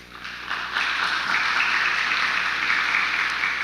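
A church congregation claps steadily during an anniversary service, a dense, continuous wash of applause from many hands that swells slightly after the first second and holds, with no voices over it.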